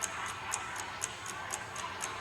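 A wall clock in the game Let Me In ticks steadily and evenly, about two ticks per second, with crisp, clear strokes over a quiet background hiss.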